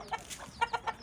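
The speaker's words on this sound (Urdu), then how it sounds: "فارم پہ میں نے کئی قسم کی مرغیاں رکھی ہوئی ہیں" Hens of mixed breeds, including Golden Buff, Silver Sebright and desi chickens, give short, quiet clucks on a poultry farm, several brief calls spaced across a second.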